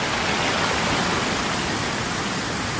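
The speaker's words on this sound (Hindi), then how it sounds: "भागीरथी नदी की धारा इन्हीं कुंडों से होकर आगे बढ़ती है।" The Bhagirathi river rushes through the rock pools, or kunds, at Gangotri, a steady, loud, broadband roar of turbulent water with no pauses.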